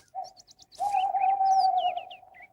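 A cartoon owl gives a long, steady, mid-pitched hoot after a brief opening note, with light chirping bird calls flickering above it.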